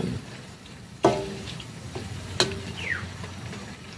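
Bicol express with chicken and chilies simmering in a pan, giving a soft steady bubbling with a couple of sharp utensil clanks against the pan.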